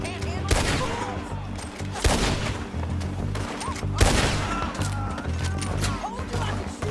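Rapid gunfire during a Red Dead Redemption 2 shootout, loud sharp shots cracking out in bursts and volleys, with several heavy blasts about two seconds apart amid scattered shouting and grunts.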